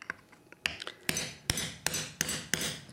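Five or six sharp metallic taps of a screwdriver bending a small tab on a Pro-Pruner P100 or P50 pruner, evenly spaced about half a second apart, close and fairly loud, with faint clicks before them.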